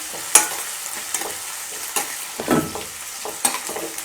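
Green chilli sautéing in a pan with crushed ginger and garlic, a steady soft sizzle broken by occasional scraping stirs and clinks of the spoon, close up with no talking.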